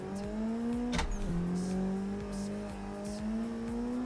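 Street car engine in the Assetto Corsa racing game holds a steady drone during a drift session, with a sharp dip and recovery in pitch as the car snaps sideways; faint tire noise underneath, no talking.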